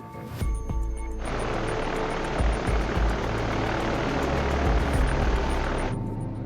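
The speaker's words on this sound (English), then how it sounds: "the crew of a B-29 named Enola Gay, after the Captain Paul Tippett's mother, takes off from their airbase in Tinian" B-29 bomber Enola Gay taking off from its airbase on Tinian in the northern Mariana Islands, a loud, dense propeller engine roar that swells in abruptly and holds steady before cutting off near the end.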